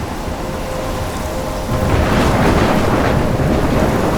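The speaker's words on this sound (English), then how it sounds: "I'm trapped in a storm?" A storm in the game Life is Strange brings steady heavy rain, with a deep thunder rumble swelling partway through and holding loud to the end.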